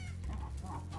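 A chicken clucks in the video game Spyro the Dragon, a brief faint run of nasal clucking over a steady low hum of game background sound.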